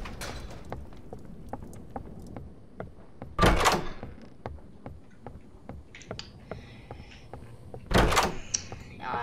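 In the Roblox horror game Doors, two heavy door thuds ring out, each with a rattling creak, several seconds apart. Light footsteps tap steadily underneath, and no one talks.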